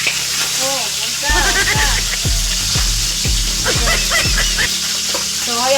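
Fish pieces sizzling in hot cooking oil, a steady frying crackle with sputtering pops, while a dog barks in short repeated bursts in the background.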